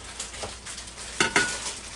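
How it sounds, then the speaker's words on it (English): A pot roast sears in a Ninja Foodi Deluxe pot, a steady sizzle with a few sharp clinks and scrapes of a utensil against the pot, close and fairly quiet, with no voices. "we'll try to sear all the edges on it"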